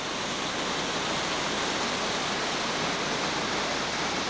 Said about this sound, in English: looking down on the Niagara Creek that actually flows down to the big waterfall you saw earlier